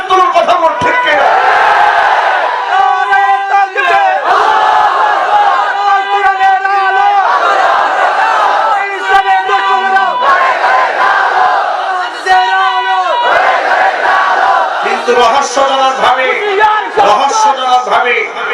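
A large crowd chants slogans in loud unison, rhythmic call-and-response bursts repeating throughout, with roaring voices at a rally.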